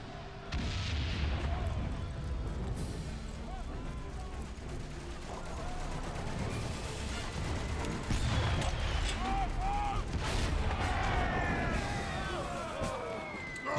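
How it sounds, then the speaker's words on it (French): Artillery fire booms and gunshots crack through a First World War battlefield in the video game Valiant Hearts, heavy and continuous with wailing and whistling tones above, while people talk over the din. "pour guider les tirs d'artillerie"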